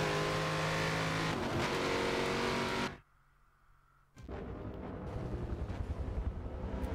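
A prototype race car in an endurance racing video game roars at full throttle, its engine note cutting out for about a second of near silence before the howl returns with bursts of revving.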